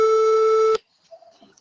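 A telephone signal tone, steady and loud, holds for under a second and then cuts off abruptly, followed by faint low murmurs in near silence.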